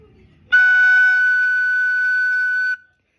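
A single high F sharp on a soprano recorder rings out steadily for about two seconds, clear and bright, then stops cleanly.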